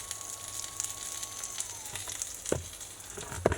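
A 36-hour sous vide beef brisket sizzling in a pan: soft, steady frying crackle with scattered pops and a few louder spits, close by and fairly quiet.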